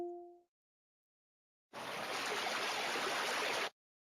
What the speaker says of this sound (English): You find a small stream and drink as much water as you can